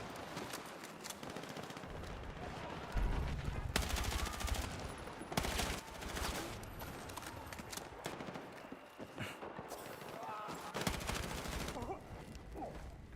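Helldivers gunfire rattles in dense, overlapping bursts of rapid machine-gun shots and sharp single cracks, fairly quiet and continuous throughout with busy game effects underneath.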